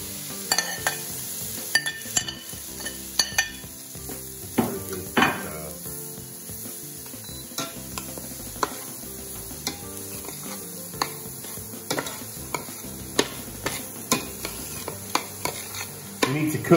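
Butter, onions and leek sizzling in a saucepan over medium heat for mushroom soup, a steady close fry with regular wooden-spoon stirs and scrapes knocking against the pan, no talking.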